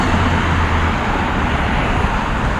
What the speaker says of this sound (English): Another garbage truck.